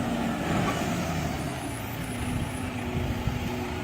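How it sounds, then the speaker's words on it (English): A truck arrives at a public beach, its engine a steady low rumble at moderate distance, with faint high tones and a constant background wash over the few seconds. "You got another truck bringing more fucking shit here again."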